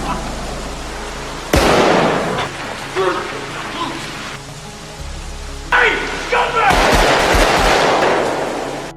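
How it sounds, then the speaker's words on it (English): Bursts of gunfire are fired repeatedly at a man in a film scene, loud sharp cracks in clustered volleys with a crackling, rain-like spatter between them, mixed under dramatic sound and voices. "Dennis arrived and shot Jimmy multiple times, ending his life"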